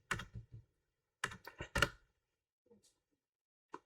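A computer keyboard being typed on, a few quick close key clicks in two short bursts separated by silence, with one faint isolated tap near the end.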